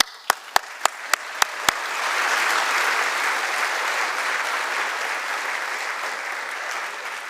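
An audience at a music and brain lecture breaks into warm applause to welcome a speaker, starting with a few sharp claps and swelling into a sustained, evenly spread round of clapping that fades slightly toward the end.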